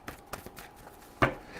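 A tarot card deck shuffled by hand, with soft papery riffles and taps ticking in a loose rhythm and one louder slap of cards near the end, close and fairly quiet.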